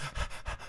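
A person imitates a panting dog with quick, breathy huffs, three or four rhythmic pulses heard close and short with no words.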